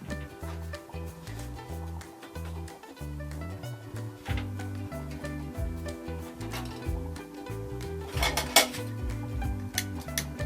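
A metal cooking pot is handled and clinks on a Jetboil camp stove while vegetables steam, giving repeated clanks and scrapes of pot and lid, close and moderately quiet, with no talk.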